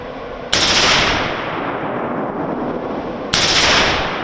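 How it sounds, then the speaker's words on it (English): An M4 automatic rifle, built by Armalite, fires two loud, close full-auto bursts: a long rattling string first, a pause while the echo decays, then a second burst starting near the end. "This is an automatic rifle, known as a machine gun or an M4, also created by Armalite in the 1960s, but made for military soldiers."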